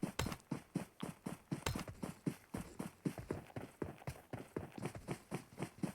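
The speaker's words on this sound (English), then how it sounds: "Does he hear footsteps? He does hear footsteps." Running footsteps in the battle royale game PUBG Mobile patter at a fast, steady pace, a continuous string of soft, evenly spaced steps heard fairly faintly.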